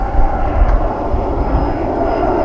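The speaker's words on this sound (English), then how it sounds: "there goes a plane overhead" A propeller or jet airplane passes overhead outdoors during an evening outing in a Greek village, a steady broadband engine roar that stays loud and constant throughout with no talking.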